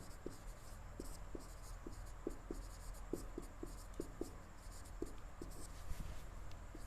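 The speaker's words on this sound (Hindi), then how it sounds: "तो यहाँ पे मैं लिख दे रहा हूं" Quiet handwriting, with light scratchy strokes and small taps of pen or chalk across a surface, irregular and close, over a low steady background hum with no talk.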